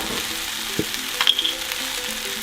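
Leftover kimchi with sesame oil fries in a pan, giving a soft steady sizzle with a couple of faint utensil taps.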